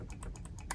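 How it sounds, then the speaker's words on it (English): An Amiga 500's two-button mouse clicking quickly, about seven crisp, close, evenly spaced clicks in under a second. "The buttons do click."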